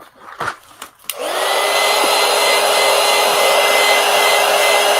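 A hair dryer blasting close by over marker coloring on paper, starting after a few brief clicks and handling noises, then holding a steady, loud whooshing drone to the end.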